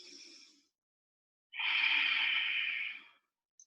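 Deep breaths close to the listener during a vinyasa yoga flow: a short exhale, a pause of silence, then one long, full breath, alone with no talk.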